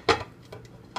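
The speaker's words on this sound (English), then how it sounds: "So now I'm just gonna put the lid back on." A lid goes back onto a crock pot holding corned beef brisket under cabbage: one sharp ceramic clack, then two fainter taps, close and with no talking.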